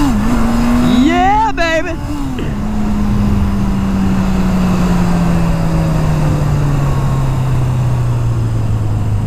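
A cheap used motorbike that had recently been revived roars past. Its engine pitch wobbles up and down, then it settles into a long steady drone that slowly falls in pitch. A man whoops excitedly over the engine near the start.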